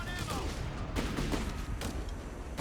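Rifle gunfire in Company of Heroes 3 during a battle with infantry engaging on all sides, a dense crackle of overlapping shots and bursts over a constant rumbling war din.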